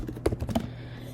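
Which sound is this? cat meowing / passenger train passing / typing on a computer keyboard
typing on a computer keyboard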